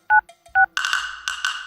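A phone number being dialed on a mobile, with two short clear keypad tones followed by a buzzing ring or connection tone that comes in two bursts, close and loud, with no speech.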